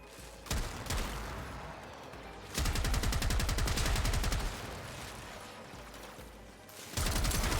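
Rapid automatic weapon fire from Warframe, the Trumna heavy gun, coming in several loud bursts of dense rattling shots separated by quieter gaps, with no talking.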